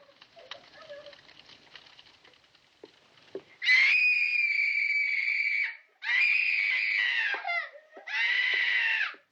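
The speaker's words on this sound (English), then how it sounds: "these terrible shrieks of Flora, who's having a complete tantrum at this stage" A young girl named Flora shrieks through a furious tantrum in the 1961 film The Innocents, three long, piercing screams following faint earlier sounds, loud and sustained with brief breaks between them.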